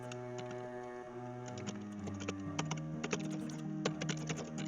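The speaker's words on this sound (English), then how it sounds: "I have my notes with me, that's why I'm typing a lot just then." Rapid clicking of computer keyboard keys while someone types notes, irregular bursts of keystrokes over steady game music and background hum.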